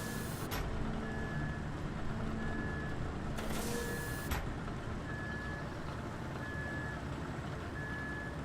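Dump truck in RoadCraft, a heavy engine rumbling steadily under evenly spaced high reversing beeps, with two sharp hissing bursts like air brakes breaking in.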